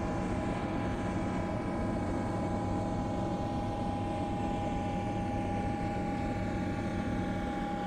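A heavy aircraft in a flight simulator game roars steadily as it takes off and climbs, a loud, continuous engine drone with a low rumble and no talk.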